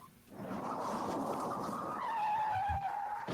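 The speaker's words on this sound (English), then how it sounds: "This is the car crash of the day." A car skids with a long rising tire squeal, loud and close, sliding steadily over a rumbling engine as a comedic crash sound effect.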